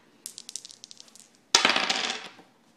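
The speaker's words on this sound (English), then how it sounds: "We will roll the pair of dice 21 times" A pair of dice tumbles across a surface, first a string of light bouncing clicks, then a louder, denser clatter that fades out.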